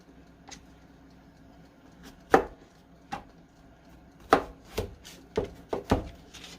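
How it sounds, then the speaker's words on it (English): Knife chopping mushrooms on a cutting board in a home kitchen, a scattering of sharp, close taps coming in uneven bursts, with quiet gaps between the strikes. "I'm going to cut this up right quick while that's getting ready"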